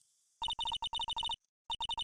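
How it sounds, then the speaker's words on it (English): Electronic ringing tone from a phone in Phoenix Wright: Ace Attorney after redial, rapid beeping bursts in two quick groups separated by a short pause, clean and isolated. "You pressed redial on that there phone, didn't you?"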